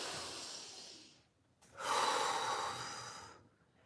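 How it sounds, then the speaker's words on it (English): A slow, deep breath in and out taken close to the microphone: a long airy exhale, a short pause, then a fuller, louder inhale and release, alone without talk. "take a deep breath"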